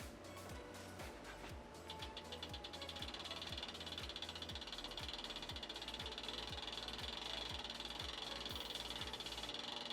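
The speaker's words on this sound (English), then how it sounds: "I'm going to run the chain back and apply it while we're spinning the cranks backwards" Bicycle chain and cranks spun backwards while the chain is being lubed, a steady close ticking and whirring from the freewheel and chain that runs on without pause.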